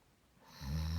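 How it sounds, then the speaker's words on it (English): The wolf from the Red Riding Hood bedtime story lets out one loud snore. It swells in quickly after a brief quiet moment and rumbles low and nasal. No voice is heard. "he lay down again in the bed, fell asleep, and began to snore very loud."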